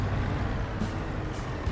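A semi-truck with air brakes in Farming Simulator 25, a steady, loud low engine rumble with a hissing air-brake texture, heard alone without talk.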